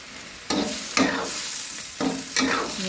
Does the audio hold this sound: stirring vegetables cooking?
yes